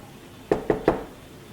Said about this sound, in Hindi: ये कौन इतनी तेज़ तेज़ खटखट कर रहा है?